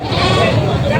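A goat bleats amid the busy din of the Padre Garcia livestock market in Batangas, its cry partly buried under loud, close voices talking over the crowd.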